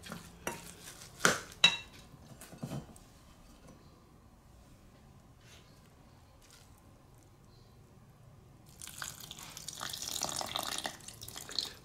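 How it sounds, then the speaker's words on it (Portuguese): Water is poured into a fermented pepper paste and stirred, with a few sharp knocks and scrapes at the start, a quiet stretch, then a wet, splashy mixing near the end. "aqui vamos adicionar um pouco de água"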